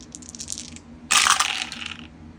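Handful of dice rolled during a tabletop wargame of the Iwo Jima 1945 battle, a brief bright clatter tumbling for about a second after a few small taps, close and fairly loud.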